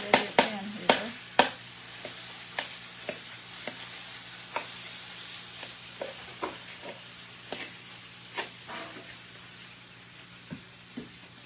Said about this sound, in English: I'm just getting it in this hot pan.